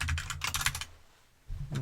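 Rapid, loud clacking of computer keyboard keys in close-up ASMR style, a dense run of keystrokes that pauses briefly before typing resumes near the end.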